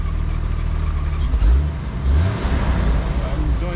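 Jeep YJ on an off-road trail with its engine revving as the gas pedal is pressed. The rumble is close and steady and swells in two surges.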